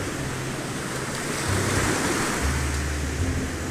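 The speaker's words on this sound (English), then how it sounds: "Nice big splash there." A big ocean wave crashes and washes along the rocky Ayrshire coast, a broad roaring surge that swells midway with wind buffeting the microphone and no voices.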